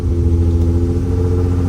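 A 2007 Nissan 350Z with a full bolt-on 93 tune and a stock engine idles close by, giving a steady, deep, even rumble with no break or change in pitch.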